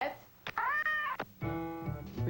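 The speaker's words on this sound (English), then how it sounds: "Be careful of the cat." A house cat meows repeatedly in a home, giving two or three drawn-out, tonal cries with a voice briefly mixed in between them.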